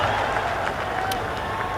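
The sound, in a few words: cricket crowd cheering at Bangladesh v England ODI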